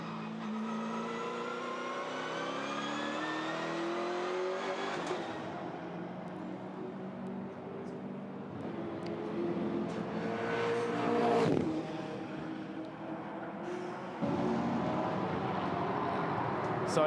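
A touring car in New Zealand Touring Cars practice drops a gear into a corner, then the engine climbs and revs hard as it accelerates out, a loud, continuous roar with sharp shift breaks and changing pitch.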